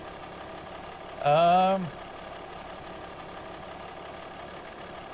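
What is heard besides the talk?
tractor engine idling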